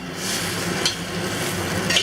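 An egg omelet with minced pork and pickled mustard sizzles steadily in a pan just after flipping, a constant close frying hiss with a couple of small spatula taps.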